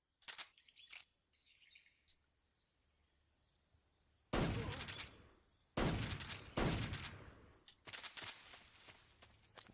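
Sharp bursts of gunfire from Metal Gear Solid 3, several loud broadband volleys spaced a second or so apart after an earlier pair of quick shots, over a quiet game background.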